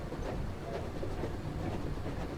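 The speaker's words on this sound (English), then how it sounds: "Mate, watch out for that train." Steady rumbling clatter of a train rolling past in a strategy video game, continuous and fairly loud throughout with no break.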